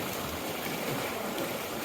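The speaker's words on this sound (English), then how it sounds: "the sound of the ocean" Ocean waves wash steadily at a remote, empty shoreline. The dense, continuous rushing noise stays even and fairly loud throughout, with no voices.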